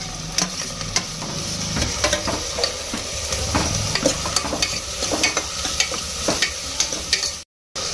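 Capsicum and tomato fry in a hot pan while a spoon stirs them steadily. Continuous close sizzling is broken by repeated scraping strokes, with a brief dropout near the end.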